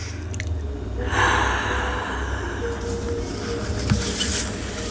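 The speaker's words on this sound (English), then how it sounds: "Take a deep breath in." One slow, deep breath drawn in through the nose and mouth, a close, airy rush lasting a couple of seconds against a faint steady background.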